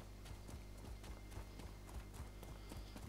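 A horse galloping in Elder Scrolls Online, its rapid, even hoofbeats pounding steadily under a dense, constant game soundscape.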